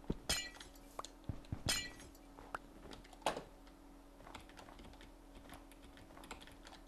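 Glass blocks breaking in the Minecraft video game, a few sharp crisp shatters and clinks among quiet keyboard clicks, no talking.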